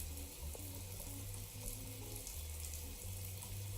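Water runs steadily from a shower in a video game, a constant hissing spray under faint low tonal background music.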